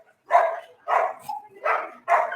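A dog barks four times in quick succession in a residential neighborhood, clear and fairly close against a quiet background.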